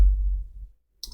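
A single sharp click of the enter key on a computer keyboard, brief and close, arriving after a low, fading rumble and a moment of quiet.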